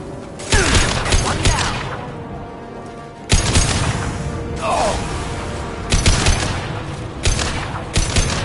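Bursts of rapid gunfire in the Mass Effect 2 video game, loud and close, in several clusters separated by brief pauses, with booming impacts and mechanical clatter mixed in.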